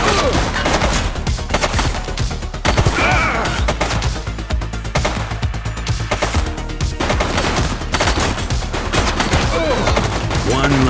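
Rapid, sustained gunfire and crashing impacts from the police video game The Precinct fill the scene in dense, loud bursts, with shouted voices breaking in over the shooting.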